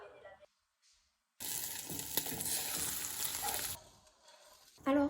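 Scrambled eggs frying and sizzling in a pan, a loud steady hiss that cuts in suddenly after quiet handling noises, runs for a couple of seconds and then fades back to faint clatter.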